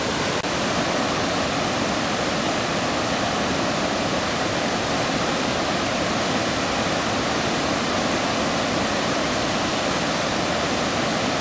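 Floodwater rushes over a submerged canal gate at Diversion Lake, a loud, steady broadband roar that fills the whole clip without letup, close and unbroken, with no voices heard.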